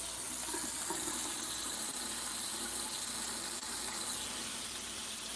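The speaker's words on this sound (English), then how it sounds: "I'm gonna start running water back in the tank right away" Water pours steadily into an aquarium tank during maintenance, a continuous broadband rushing and hissing gush that stays even and loud from start to finish with no pauses.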